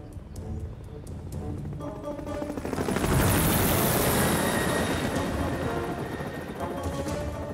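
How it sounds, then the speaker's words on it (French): A cartoon helicopter flies in a children's animated railway show, a loud, steady rotor chop and whine swelling around the three-second mark and staying strong, with no talk over it. "Ce matin-là, Harold, l'hélicoptère, vole au secours de 2 alpinistes en difficulté sur la falaise"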